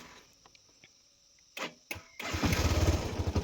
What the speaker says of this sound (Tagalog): Para siyempre mag-cold start muna yung ating motor para ipainitin muna natin yung kanyang makina